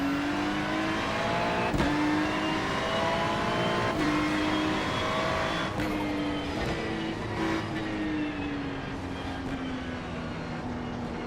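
A NASCAR Cup Series stock car engine roars loud and close after the green flag at Nashville. The drone holds steady, with short dips and re-rises at each gear shift, and other cars can be heard faintly around it.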